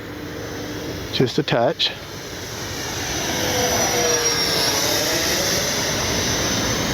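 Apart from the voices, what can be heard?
small model jet aircraft flying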